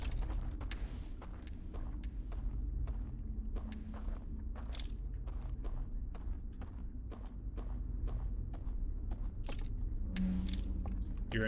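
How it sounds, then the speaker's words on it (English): Footsteps in Outer Wilds: Echoes of the Eye tread in a steady, evenly spaced rhythm over a low droning ambience, each step crisp and fairly close, with faint creaks and clinks between them. "Why are there footsteps?"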